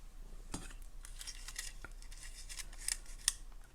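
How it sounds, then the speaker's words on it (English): Scissors snip wire while making a boho multi-strand necklace, with a few quiet, crisp snips over a soft background hiss. "Once again, snip off a piece"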